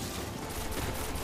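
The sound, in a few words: gunfire in the video game Destiny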